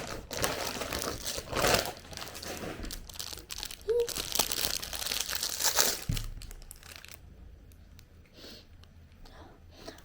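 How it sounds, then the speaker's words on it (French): A plastic package of madeleines being opened, giving dense, close crinkling and crackling that goes on steadily for several seconds before it fades to scattered soft rustles. "je veux bien goûter une madeleine et ouvrir le paquet pour vous"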